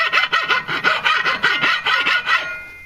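A nearly new file rasps back and forth across a carbon steel shovel, about a dozen rhythmic, close, scratchy strokes in a steady cadence before stopping.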